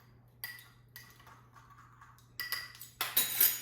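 Spoons and dry spice-rub ingredients, cumin among them, are stirred together in a bowl for a pork tenderloin, giving soft, scattered clinks and scrapes. Quiet at first, the sounds grow brighter and louder toward the end.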